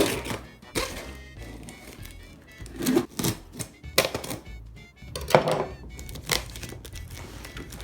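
Someone slices open the cardboard packaging of a Nintendo 64, making a series of sharp cutting, tearing and thumping sounds in irregular bursts, close and fairly loud, with no talking.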